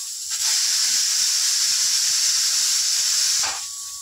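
Cooking oil poured into a hot pot for mutton dalcha, giving a steady, loud sizzling hiss that holds for about three seconds and then tapers off.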